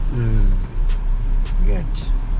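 A Suzuki Grand Vitara 2023 pulls away from a standstill with a low steady engine rumble and road noise, while a person talks over it close by.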